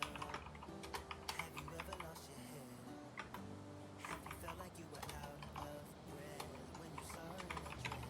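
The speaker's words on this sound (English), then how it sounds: "I'm just gonna type myself out a message." Rapid clatter of keys on a computer keyboard as a message is typed, steady and close, with music and other sounds running underneath throughout.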